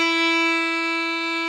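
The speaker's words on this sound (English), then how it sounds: "This note is called E, and it sounds like this." A single sustained E played with the first finger on the violin's D string, steady and clear with rich even overtones, held alone for over a second without fading.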